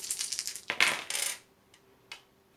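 Dice tumble and clatter across a table during a Big Trouble in Little China board game, a dense rattling burst followed by a couple of small settling clicks, close and alone without speech.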